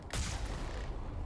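Cannon on the Mako vehicle in Mass Effect firing a single shot: a sudden sharp blast that quickly decays into a low rumbling tail.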